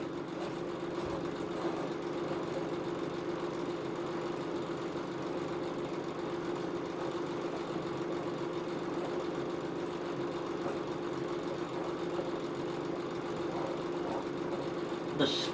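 A mud mower's engine runs smoothly at a steady, even idle throughout, a constant mid-pitched hum at fairly low volume with no clear speech over it.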